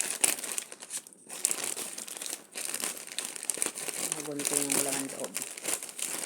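Plastic packaging of an ordered parcel crinkles and rustles as it is torn open during an unboxing, with steady close crackling under a person talking throughout.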